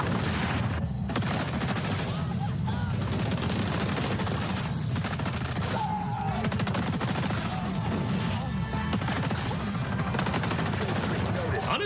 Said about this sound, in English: Let's try the new assault rifle out.